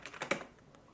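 Keys clatter on a computer keyboard in a short burst of several quick taps, fairly close and moderately loud, then fade into a quieter tap or two with no voices.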